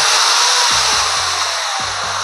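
An Enon electric drill runs with its bit spinning freely, giving a loud, steady high whir with a low mechanical hum and faint stepping tones beneath, no voices.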